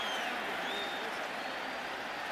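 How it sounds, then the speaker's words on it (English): A large stadium crowd at an NFL football game, Raiders at Ravens, reacts to a replay shown on the big screen, a sustained broad roar with scattered applause and no break. "they just showed the replay up on the big screen, and you can hear the crowd reaction"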